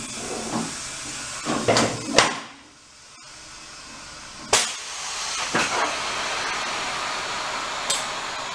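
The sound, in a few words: air hissing while inflating moped tires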